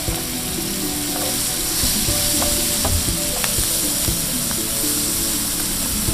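Chopped onions, diced carrots and chopped celery sizzle in butter in a pan, a dense, close frying hiss with occasional crackles and stirring clatter, no speech over it.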